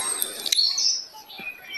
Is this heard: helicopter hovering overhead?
no